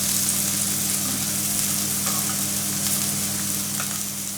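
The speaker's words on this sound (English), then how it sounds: "we turn the side to fry another side." Potato wedges fry in a pan of hot oil, giving a steady, dense sizzle that stays loud and continuous throughout, heard up close with no voices.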